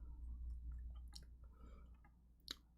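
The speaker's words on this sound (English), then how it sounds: "Now I gotta fucking chew." Oreo cookies are chewed close to a microphone, giving soft wet crunching and mouth clicks over a low hum. A sharper crunch comes near the end, and no one talks.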